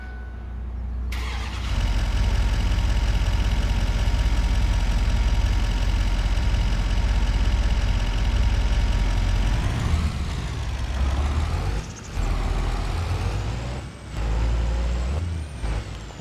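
Pickup truck engine in Farming Simulator 25 starting with a brief hiss, then a loud, steady diesel-like idle with broad rumble, shifting and dipping near the end as it revs and settles.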